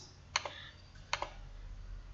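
A computer mouse clicks while an Excel chart is being edited. Two quick pairs of crisp, close clicks are separated by a short pause, with no talking.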